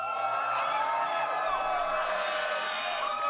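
A faint, distant crowd cheers and whoops steadily for Sentinels during a VCT Americas esports co-stream, a thin wash of voices heard from far off.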